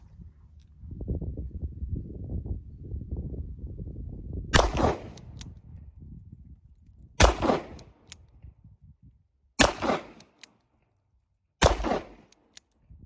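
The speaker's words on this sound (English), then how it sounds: "I'm going to shoot this single action, 6 rounds, into that small little rectangle at the bottom of that target" Smith & Wesson Model 10 police trade-in revolver fired single action: four sharp, loud reports spaced a few seconds apart, with low murmuring and rustling before the first shot and quiet gaps between.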